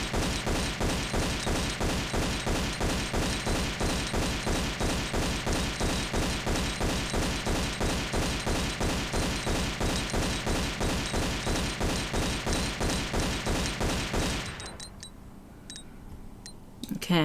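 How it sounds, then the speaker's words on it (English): Pistol fire aimed at crocodiles in the Tomb Raider level editor game The Last Plague, a long rapid, evenly spaced stream of sharp gunshots that stops abruptly near the end, leaving quiet. "grabbing my pistols, we are at a safe vantage point to shoot all of these crocodiles"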